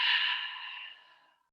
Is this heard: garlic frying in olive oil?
no